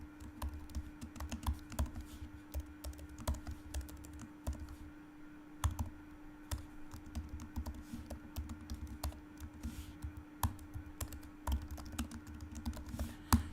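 Steady, close typing of code on a computer keyboard, a continuous run of quiet clicking keystrokes with occasional louder taps and a low electrical hum underneath, no talking.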